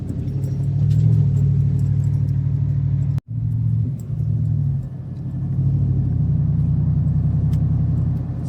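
A vehicle drives slowly over a rough, rutted dirt road with a steady low engine rumble and interior vibration, broken by a brief sharp thump partway through and small knocks and rattles from the bumpy surface.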